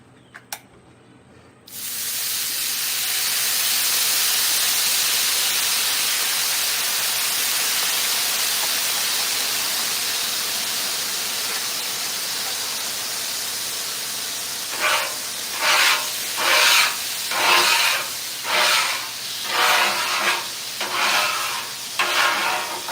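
A hot Blackstone griddle hisses loudly and steadily as it steams while being cleaned, then gives way to a run of rhythmic scraping and wiping bursts, close up and without talk.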